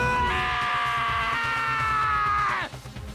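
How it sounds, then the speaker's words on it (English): A long, loud, sustained high-pitched scream from a character in the video game Danganronpa: Trigger Happy Havoc, holding steady for over two seconds before cutting off abruptly over game background music. "I heard screaming!"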